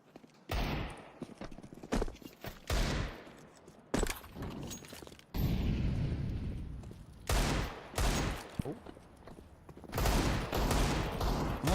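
Pistol gunfire in a Counter-Strike match rattles in rapid bursts and single sharp shots, loud and close, broken by short gaps and layered with game effects.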